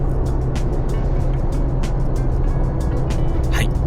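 Steady, loud engine and road rumble heard from inside a car driving through a tunnel, with regular ticking thumps from the tyres and a brief swelling whoosh near the end.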